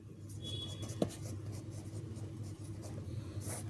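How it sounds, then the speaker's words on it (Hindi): A pen scratches across a book page in a quiet room, soft continuous scribbling over a low steady hum, with one small tap partway through and no talk. "इसमें भी मैं लिख देती हूँ, बुक में भी लिख देती हूँ।"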